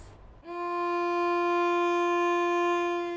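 A lone cello sounds the note F above middle C, one steady bowed tone held for about three seconds, clear and close with full resonance and no voices.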